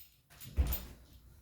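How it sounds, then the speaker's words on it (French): A single door is pushed shut with a soft thump and a brief rattle, heard alone at moderate distance in a quiet room. "Ok, désolé, j'ai fermé la porte."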